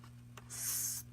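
Paper card holder being folded, a brief close rustle and soft crease swish, faint and alone.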